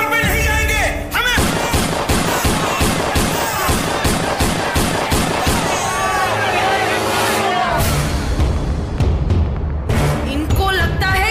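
Gunfire rings out against striking workers in a Hindi audio drama about Gandhi, dense loud rapid shots mixed with shouting crowd noise and voices throughout.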